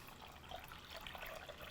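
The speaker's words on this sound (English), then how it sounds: "we'll measure out the water in a container and then pour it in" Warm water, about 614 grams, poured from a container into a bowl with honey for sheet pan pizza dough, a faint steady splashing trickle with small bubbling accents throughout.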